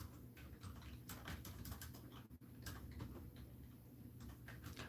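Computer keyboard keys clatter in quick irregular bursts while someone plays an old typing game, faint and close, with short pauses between flurries of keystrokes and no talking.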